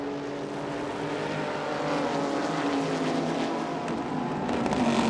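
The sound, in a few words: race cars driving around the track, 1999 ALMS race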